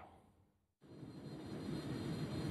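An airplane roars steadily at Rabat-Salé airport, its broad engine noise cutting in abruptly after a quieter moment and then building to a sustained, fairly distant rumble with no voices.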